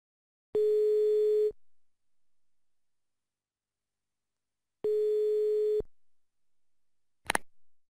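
A steady telephone dial tone sounds twice with a long silent gap between, followed by a brief sharp click or clatter near the end.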